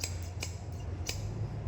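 Glass scissors for working with boat resin snip three times in quick succession, each a crisp close click over a low steady hum.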